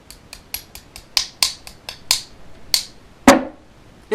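A pin is tapped into an AK47 firing pin assembly with a series of about a dozen sharp metallic taps, close and crisp, irregularly spaced, ending with one heavier knock.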